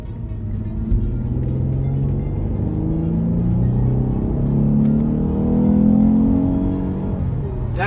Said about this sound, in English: see if we can get some better engine noise out of the vehicle